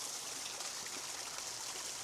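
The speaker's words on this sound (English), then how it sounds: "A natural sound of water" Stream water tumbling over rocks in a snowy landscape, a steady close rushing and trickling wash that stays even throughout, with no voices.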